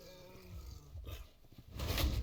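A bear in the video game Hytale gives deep, growling roars, a throaty rumble building into a louder, rougher roar near the end, with game clatter around it.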